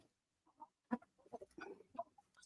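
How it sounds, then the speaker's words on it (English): A chicken squawks and clucks in a few short, faint bursts at a distance, reportedly having just caught a toad, with no talking over it. "Sound like that chicken just caught the toad"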